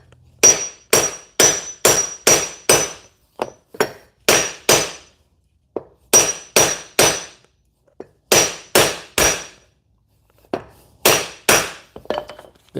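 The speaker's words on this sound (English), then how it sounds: "I'll just hammer this into this 2x4" A hammer strikes a chainsaw clamp into a 2x4, sharp loud metallic-wooden blows in quick bursts of three to five hits separated by short pauses, with no talk.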